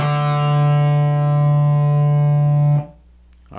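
An electric guitar with distortion plays a riff, here a loud sustained open D string note ringing with effects and then cut off abruptly into near silence.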